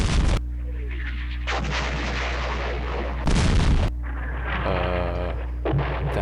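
Artillery guns fire in the World War II strategy game West Front, with sharp, loud booms arriving a few seconds apart over a steady low game-music background.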